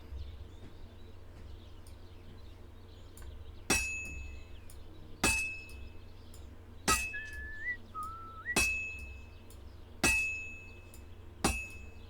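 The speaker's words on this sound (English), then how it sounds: "Now take the hammer and try hitting it a few times." A blacksmith's hammer rings against a sword on an anvil in Kingdom Come Deliverance 2, six bright metallic clangs spaced about a second and a half apart with long shimmering decays over a low hum.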